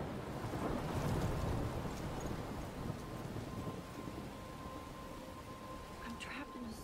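A thunderstorm in the video game Life is Strange, with a heavy rumble of thunder early on fading into continuous rain and wind, and faint higher pattering toward the end.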